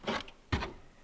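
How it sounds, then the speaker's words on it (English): Two short plastic clicks, about half a second apart, as a headlamp bulb cable connector snaps into place on a 2017 Subaru Forester; close and fairly crisp, no talk. "Now I just connect the cable."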